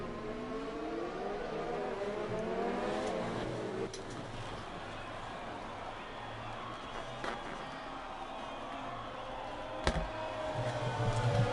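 F1 cars racing on track at the Spanish Grand Prix in an F1 video game, steady engine drone with shifting pitch lines throughout, a few sharp transients, and a louder pass near the end.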